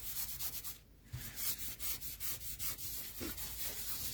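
An anti-static embossing buddy pad is rubbed over card before stamping with clear embossing powder, making close, rhythmic brushing strokes in quick repeated passes that carry on steadily throughout.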